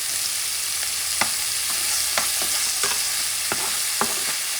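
About seven cloves' worth of minced garlic sizzles steadily in a hot pan while a utensil stirs it, with sharp scraping clicks recurring every second or so over the constant frying hiss.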